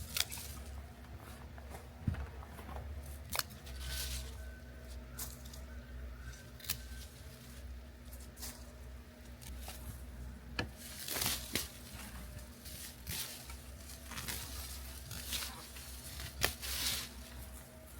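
Garden shears snip repeatedly at overgrown feverfew and valerian stems in a raised garden bed outdoors, with sharp, irregular cuts and rustling of foliage against a quiet background.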